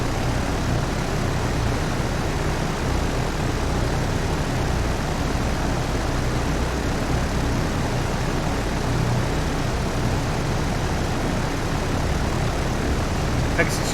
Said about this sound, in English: Torpedo bombers. Let's get them attacking over there.